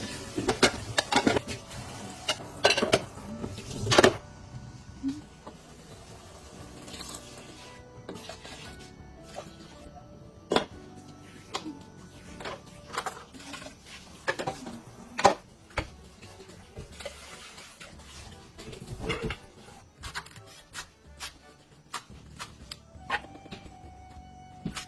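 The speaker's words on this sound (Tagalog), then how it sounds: "habang nagluluto pala ako dyan, naghugas na nga rin ako nito mga pinggang pinagkainan namin" Plates and dishes being washed by hand after a meal, with repeated clinks, taps and scraping of crockery at close range, irregular and steady over a kitchen background.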